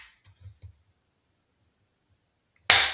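A single sharp shot from an Umarex MOD 92 FS spring airsoft pistol, a sudden loud crack near the end after a few soft, faint handling clicks, with near silence between them.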